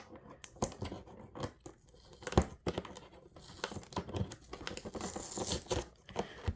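A squishy's plastic packaging being torn open by hand, heard close as repeated crinkling rips and crackles in uneven bursts, with some talking mixed in.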